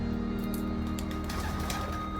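Pigeons coo softly in an abandoned, dilapidated building, low murmuring calls under a dense, steady background hum.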